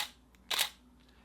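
A camera shutter clicks once, a sharp, close mechanical snap in an otherwise quiet moment.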